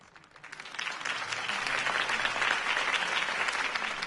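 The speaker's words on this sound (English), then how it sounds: "If only Mr. Wayne, my campaign's largest backer, could have heard that applause" A crowd applauds at a political campaign rally in the Batman Telltale video game, starting softly and swelling to steady, sustained clapping and cheering for several seconds.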